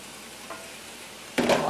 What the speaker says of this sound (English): We turn the meat to the skillet along with any juices and cook gently for a few minutes, combining the flavors